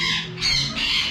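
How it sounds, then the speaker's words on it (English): A baby pied blue and gold macaw gives a loud, harsh squawk close by, a raspy two-part call filling just over a second. "That, my friends, is a pied blue and gold."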